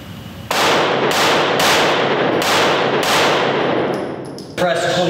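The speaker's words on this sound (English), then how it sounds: "this is a 9mm pistol" Rapid series of loud, sharp shots from a 9mm pistol with no muzzle device, fired outdoors at night. About five evenly spaced cracks ring out, then a brief metallic clatter follows.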